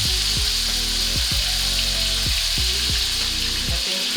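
Beef sizzles in butter in a frying pan for Filipino bistek, a loud, constant crackling hiss close by with no voices.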